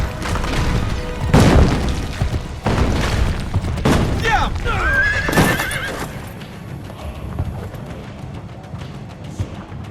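Horse hooves pound in a fast gallop with loud neighs and whinnies, heavy crashing impacts scattered through, in an Assassin's Creed Brotherhood game scene; the action thins and fades toward the end.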